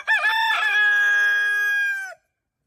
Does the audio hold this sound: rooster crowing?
yes